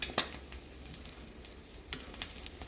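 Sunny side up eggs fry in a generous amount of butter in a pan, a steady close crackling sizzle with scattered sharper pops and spits, heard alone with no talk.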